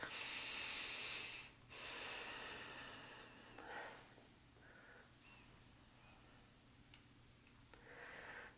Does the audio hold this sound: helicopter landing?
no